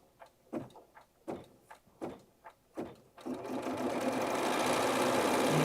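A computerized sewing machine running in quilting mode, starting with several separate thumps and whirs, then settling into a steady, loud, continuous whirring hum of rapid stitching.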